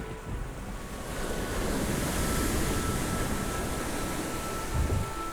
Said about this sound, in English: The waves are growing tumultuous